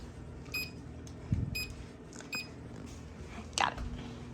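Kitchen timer being set for three minutes, a few short electronic beeps from button presses at close range, mixed with soft kitchen handling noises and a brief low voice.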